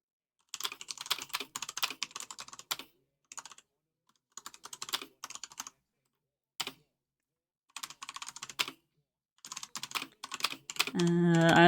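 Computer keyboard typed on frantically in short irregular bursts of close, crisp clicks with pauses between them, no voices, ending in a louder tonal noise.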